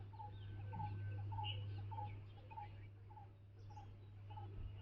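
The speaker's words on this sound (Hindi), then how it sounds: "पंछी गीत गा रहे हैं" Morning birds singing, heard as a faint, evenly spaced series of short chirps over a steady low hum.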